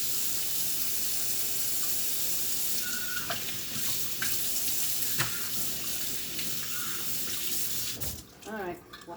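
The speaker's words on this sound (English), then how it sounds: "So you want to wash your measuring cup." A measuring cup washed under a running kitchen tap in a sink, with a steady loud rush of water and a few brief clinks and knocks of the cup, ending as the flow is cut off.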